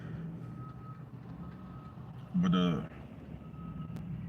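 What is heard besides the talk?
reversing beeps of a Mack truck backing up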